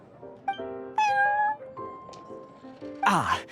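Prince, a cat in the video game Genshin Impact, gives a string of short, close, tonal meows in varied pitches, ending in a louder, noisier cry.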